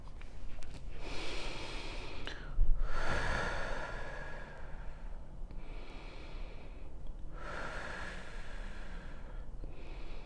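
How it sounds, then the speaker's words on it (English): Slow meditative breathing in and out, two long airy inhale-exhale cycles, close to the microphone and soft, with no talking. "feel free to breathe in and out with me"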